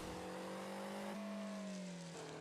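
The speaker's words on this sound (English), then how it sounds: "what I actually just did a second ago is accelerate or boost forward" A car in Rocket League accelerating and boosting forward, a steady engine drone that rises slightly in pitch midway and holds loud and close throughout.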